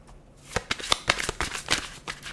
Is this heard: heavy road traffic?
no